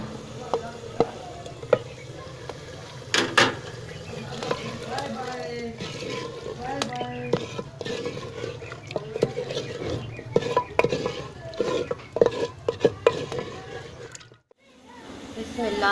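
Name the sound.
boiled meat added to masala in pot and stirred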